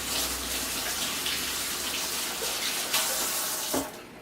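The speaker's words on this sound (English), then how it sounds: "I'm wash my hands." Hands are washed under a steadily running kitchen tap during cooking prep, the water gushing continuously and close by, with a brief splash or clunk just before it shuts off at the end.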